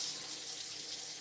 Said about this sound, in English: I'll rinse off the asparagus.